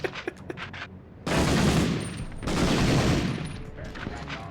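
Video game gunfire rattles in quick bursts, then two long, loud grenade blasts roar back to back, each a dense rumbling wash lasting about a second, with faint sharp pops between them.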